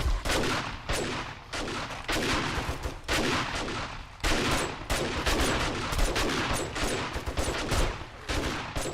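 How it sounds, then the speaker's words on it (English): A shotgun fires in a survival video game during a blood moon horde, with a rapid string of loud, sharp blasts at short intervals. "Oh, I brought my shotgun."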